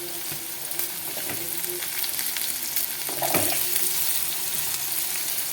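Eggplant frying in an oil-filled pan for a spicy Telugu onion-chili dish, a steady hiss and crackle with a few louder scrapes of stirring, close and continuous with no talk.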